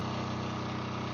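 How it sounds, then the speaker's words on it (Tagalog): A 10 kVA generator runs steadily at close range, a constant droning engine hum with no change in pitch or level and no voices. "perfectly working na yung generator natin"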